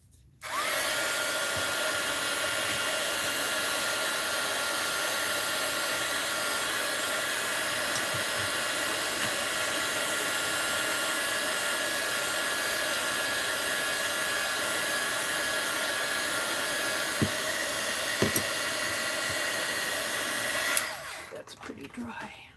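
A hair dryer blows steadily and loudly for about twenty seconds while drying a mixed-media art journal page, then cuts off abruptly near the end.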